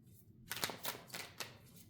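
Tarot cards shuffled and drawn by hand, a short burst of several crisp riffling and slapping sounds following a moment of quiet, close and moderately soft.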